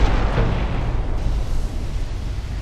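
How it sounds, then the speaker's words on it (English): A torpedo detonation in the naval warfare game Ultimate Admiral: Dreadnoughts, a heavy booming blast that hits loud at the start and rolls on as a dense, rumbling roar that slowly settles. "torpedo detonation"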